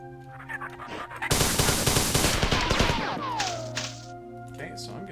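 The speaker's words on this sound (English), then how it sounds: "I'm getting shot at by quite a few things." Enemy gunfire in the video game Marathon erupts in a loud, dense burst of rapid shots lasting a couple of seconds, followed by a descending whine and a quieter tail, with game ambience around it.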